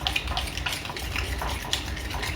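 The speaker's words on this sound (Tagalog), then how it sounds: "Kailangan kasing i-mix ng mix para yung lahat ng mga ingredients niya ay mahalo talaga ng maayos" A spoon or spatula scrapes and clinks steadily through a pan of mixed ingredients while cooking bangus, with a continuous low sizzle beneath the rhythmic stirring.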